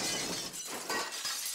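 A cartoon spaceship lands on a machine and smashes it to pieces, a loud continuous crash of shattering glass and debris that fills the moment without letup.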